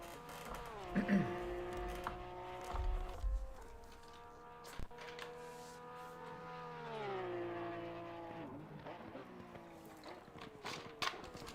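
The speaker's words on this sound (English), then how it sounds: "So a few more cars making their way out on the circuit." Race cars circulate at Monza in the PS5 game Pan Am Racing, engine notes droning and shifting in pitch as they rise and fall, fairly quiet, with occasional faint voices and clicks.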